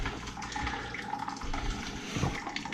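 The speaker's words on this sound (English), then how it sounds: "This is flushing out this loop at least a little bit, pushing some of that gunk out" Water rushes steadily through the drained Hartford return loop of a steam boiler, flushing out gunk with a continuous close, splashing flow and gurgling bursts throughout.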